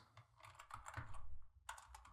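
Keys are struck in a quick run for an Excel Alt O H R shortcut, a handful of soft close-up keyboard taps in two short bursts.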